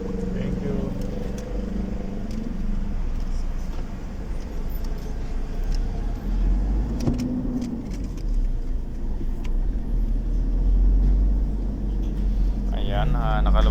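A vehicle cruising on a highway just past a toll gate, with steady road and engine rumble throughout and people talking inside the cabin over the drone.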